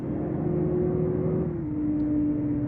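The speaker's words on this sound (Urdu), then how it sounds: "دیکھیں پھر گاڑی آ گئی۔" A heavy truck engine hums steadily on a winding mountain road, with a slight shift in pitch partway through and no other distinct sounds.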